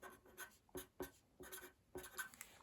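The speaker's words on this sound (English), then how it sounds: "I can write it down here if I want to" Pen or pencil strokes scratch across paper while working a long division sum, a string of close, quiet scribbles and taps in irregular bursts, with no talking.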